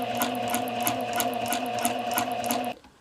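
A sewing machine running a straight seam on a number 2 stitch, a steady rapid mechanical whirring with regular needle ticks that stops abruptly near the end.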